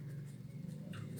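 Pen or chalk writing on paper or board during a Class 10 geometry lesson on tangents to a circle, a steady soft scratching that runs throughout, close and fairly quiet, with no talk.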